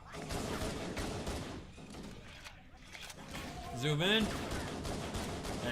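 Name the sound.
gunfire in Halo: Combat Evolved Anniversary video game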